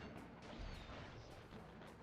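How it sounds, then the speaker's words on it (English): Fireworks struck in the Sly Cooper and the Thievus Raccoonus video game, a dense, steady crashing and booming burst of game effects that stays loud for about two seconds, with a heavier low thump near the middle. "We hit these fireworks"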